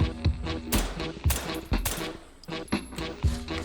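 Suppressed 9x19mm Makarov-style pistol fired in the VR shooter H3VR: a string of about eight sharp, fairly loud shots in an uneven rhythm, each with a short tail, with no talking.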